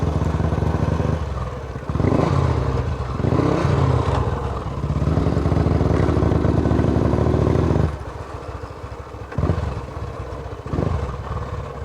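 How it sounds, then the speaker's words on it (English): An old Royal Enfield motorcycle with failing brakes being ridden in India: a loud, close engine chugging steadily with mechanical clatter, easing off briefly and then picking up again. "This is the oldest Enfield I've ever ridden."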